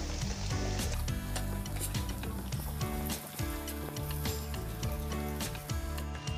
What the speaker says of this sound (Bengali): আমি এভাবে সব চিপসগুলো ভেজে নেব চিপসটাকে একটু ধৈর্য ধরে কিন্তু ভাজতে হবে